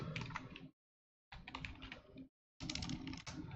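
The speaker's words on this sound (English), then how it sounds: "I hit the wrong buttons on my keyboard" Bursts of rapid clicking keystrokes on a computer keyboard, close and busy, in three separate runs split by short silences.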